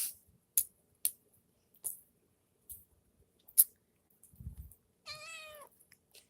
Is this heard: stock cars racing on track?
no